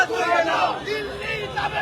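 A street protest in front of the Indian embassy, where police blocked a name plaque for Felani, has a crowd chanting slogans together. The voices form a steady, fairly loud mass of shouting with no pauses.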